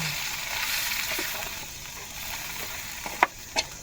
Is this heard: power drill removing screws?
no